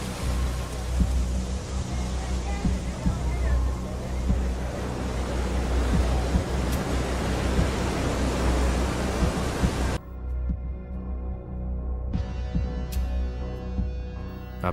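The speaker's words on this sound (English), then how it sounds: "There were still 150 miles of open ocean." Steady, loud surf of open ocean waves, a continuous broad wash of breaking water that cuts off abruptly partway through, leaving quieter low noise with a few faint ticks.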